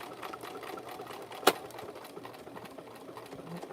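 Sewing machine back-stitching the tucked-in part of a Dollar Tree fabric coaster, a steady low whirring hum throughout with one sharp click partway through.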